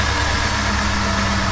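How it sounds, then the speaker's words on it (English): Engine of a 2000 Jeep Grand Cherokee 4.7 V8 running at a steady idle just after a power steering pump replacement, a loud, even rumble heard close up without talk. "I'm going to start the engine so the rest of the air can get out from the system"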